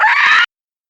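A voice imitates a creature's shrill screech during a tabletop Dungeons & Dragons session: one short, strained shriek lasting under half a second, loud and close, then cut to silence.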